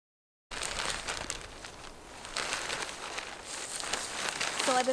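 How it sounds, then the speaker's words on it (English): Bag of wood chips being cut open and the chips spread over a garden bed of wine cap mushroom spawn, giving rustling, crinkling and scattering sounds after a short silence, close and continuous. "Now I'm just going to cut this bag of wood chips open and do one more layer on top."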